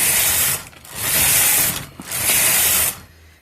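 A Toyota 901 knitting machine knitting a slip stitch pattern: the carriage makes a loud, steady mechanical whir and rattle in three long sweeping passes, with short breaks between them.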